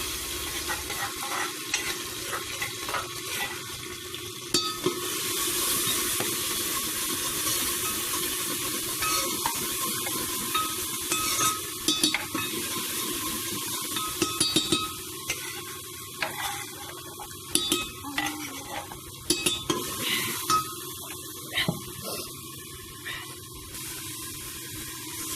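Ground masala with cumin seeds roasting and being stirred in a pan for Punjabi chicken curry, a steady sizzle with scraping spoon strokes and occasional clicks, close and continuous, no voices.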